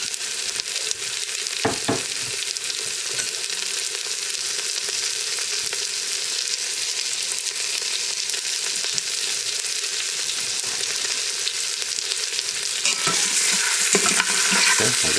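Meat browns in a hot frying pan with a steady dense sizzle throughout, broken by occasional stirring scrapes and louder spits near the end.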